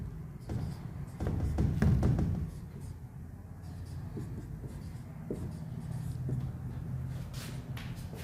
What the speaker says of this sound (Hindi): मैं एक क्वेश्चन और लिख देता हूँ